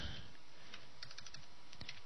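Keys tapped on a computer keyboard during HTML coding, a quiet run of light clicks in short irregular bursts with low background hum.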